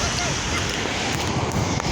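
Sea waves wash steadily at a beach in Agadir, a dense, loud broadband roar mixed with wind buffeting the microphone, continuous for the whole moment.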